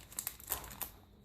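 Pokémon Base Set booster pack torn open by hand: a brief burst of crisp foil crinkling and ripping in a few quick close-up bursts.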